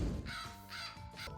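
A bird myth unit in Age of Mythology caws in three harsh, hoarse calls, each a short rasping burst, fairly close and clear over a low steady game hum.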